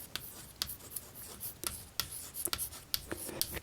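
A pen or marker writing a question on a screen board, with scratchy strokes and sharp taps in an irregular rhythm, quiet and close, with no talking.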